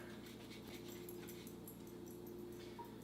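A pet dog beneath a kitchen stove snuffles and whimpers faintly while eating dropped cheese, set against a steady, loud hum that runs through the whole moment.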